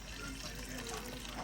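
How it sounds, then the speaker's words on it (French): Meat broth poured from a pot onto vegetables for Moroccan Friday couscous, a steady soft liquid splash running through the whole moment, close by and fairly quiet. "on vient récupérer le bouillon de notre viande, on vient le rajouter ici à nos légumes sans la viande"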